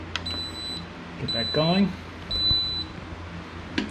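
Electronic beeps from a cooker's timer as it is set, a few evenly spaced high tones against a kitchen background, with a person talking in between.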